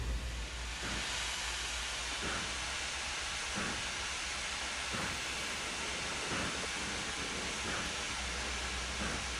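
Steam locomotive hauling a train in Trainz Simulator, a steady broadband hiss and rumble of steam with faint periodic chuffs and a low rolling drone throughout, continuous and fairly loud with no talk.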